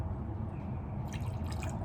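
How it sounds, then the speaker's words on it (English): Sake trickles into a small glass in a short pour, a soft liquid dripping and filling sound with light splashy bursts partway through, quiet over a steady low background hum. "I'm gonna pour myself another little bit of glass"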